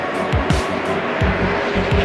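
NASCAR stock cars racing just after contact, with one car spinning around: loud, close engine roar with repeated quick whooshing passes and tire squeal, continuous throughout.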